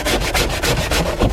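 A scrubby pad works cleaning solution into a surface in quick back-and-forth strokes, a loud, close, rhythmic rasping with about six even passes and no voices.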